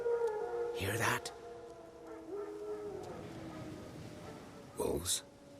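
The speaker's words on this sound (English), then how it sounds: "Wolves? No. Wild dogs." Wild dogs give long drawn-out howls in the distance, rising and wavering, heard between louder bursts of noise near the start and end.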